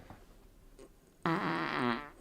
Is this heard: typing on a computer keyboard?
no